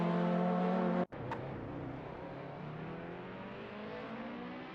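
Engines of simulated race cars hum steadily in a racing game, a sustained whirring drone that briefly cuts out near one second and then resumes with a rising pitch.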